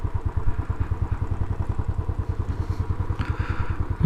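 A Royal Enfield Classic 500 single-cylinder motorcycle runs close by with a steady, loud, rhythmic low thumping at a slow, even pace, with slight rises near the end.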